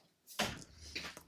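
A door swings open indoors to let a cat in, giving one sharp knock or latch click followed by a short sliding rustle. The sound is close and brief, with no talking.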